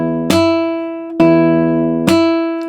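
Three thumb slaps on a guitar's B string with the other strings muted, each a sharp percussive attack that rings out into a sustained, evenly spaced tone, close and loud with no talk.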